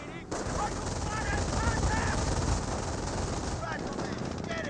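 Rapid machine-gun bursts rattle through a Company of Heroes battle, with a half-track and rifleman squads trading fire. The dense firing runs continuously at close range under battle noise, with no clear talk over it.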